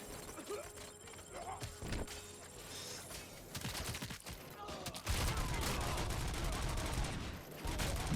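Gunfire rattles in the RoboCop video game as bursts of rapid shots under constant action noise, growing denser and louder near the end.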